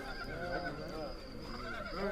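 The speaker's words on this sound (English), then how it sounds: "the men could hear the sound of what must have been Arnett coming back across the meadow on horseback" A horse whinnies faintly in a wavering neigh while its hooves carry it back across a meadow, the sound low and somewhat distant throughout.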